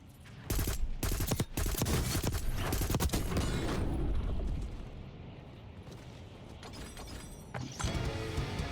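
Marksman rifles fire in Call of Duty Black Ops 6, loud rapid bursts of gunshots cracking in quick clusters, then a quieter stretch of rumbling game ambience before more shots.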